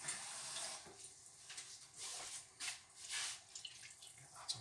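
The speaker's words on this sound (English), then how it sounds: "Just a bit of hot water there." Hot water poured into a garlic and lime balti curry, a soft running trickle with faint splashy bursts, fairly quiet throughout with no talking.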